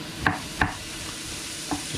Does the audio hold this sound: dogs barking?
no